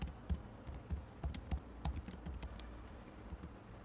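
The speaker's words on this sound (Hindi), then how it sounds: "यहाँ पर कुछ मैसेज आप टाइप कर सकते हो।" Fingers type a message on a computer keyboard, producing quiet, irregular clicking keystrokes in short bursts close to the microphone.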